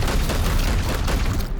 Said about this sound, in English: Firing on target.